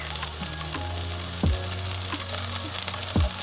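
Fried rice sizzling steadily in oil in a pan, a dense continuous frying hiss with a few soft clinks and scrapes from stirring, close and fairly loud with no voices.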